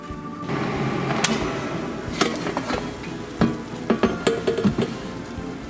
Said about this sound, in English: I will continue frying them until they are nice and crispy on the outside